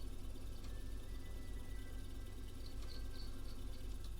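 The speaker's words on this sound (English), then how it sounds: "Or just a cricket." Cricket chirping in a quiet indoor setting, a thin steady high-pitched trill running faintly through a low background hum with a few brief brighter chirps toward the end.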